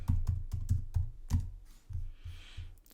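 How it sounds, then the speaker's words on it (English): Keys clack on a computer keyboard in a quick burst of close, irregular taps, then a few slower presses. "please forgive my typing"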